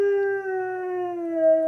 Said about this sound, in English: My dog is in the studio howling.